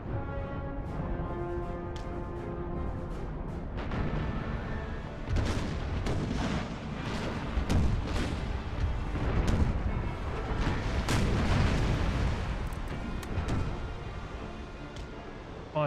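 Naval cannons firing chain shot in Empire: Total War, repeated deep booms and cracks in irregular salvos, overlapping into a rolling barrage over a background drone.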